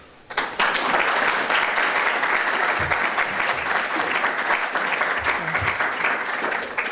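An audience bursts into loud, sustained applause for speaker Peter Schiff, the clapping starting abruptly after a moment of quiet and holding steady and close for several seconds.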